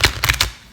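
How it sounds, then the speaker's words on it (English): A Crystal Visions Tarot deck is shuffled by hand, giving three quick, close papery riffling bursts in under a second. "I'm just going to shuffle my deck here."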